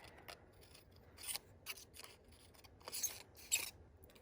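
Scissors make a series of short, crisp snips close up as they cut small slits between the petals of a paper flower, with no talking.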